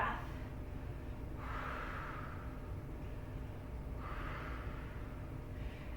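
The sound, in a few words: deep breathing during a yoga pose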